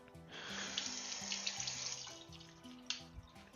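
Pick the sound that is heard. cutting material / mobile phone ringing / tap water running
tap water running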